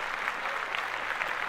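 A few people clap together for a newborn baby boy, a brief steady patter of applause.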